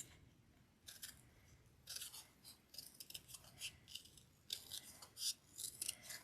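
Paper ornament shape being cut out with scissors for a Christmas decoration, a series of close, crisp snipping and rasping strokes in uneven bursts, with no talking.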